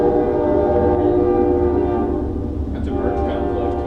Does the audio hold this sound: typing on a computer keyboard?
no